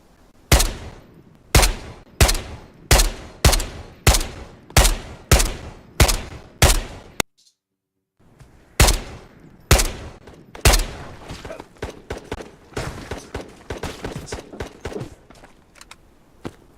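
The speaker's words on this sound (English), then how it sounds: "Who was just shooting at me?" Gunfire in a VR shooter played on an Omni-One treadmill: about ten sharp, loud shots at a steady rhythm, a brief silence, then a more ragged run of rapid shots and clatter, close by.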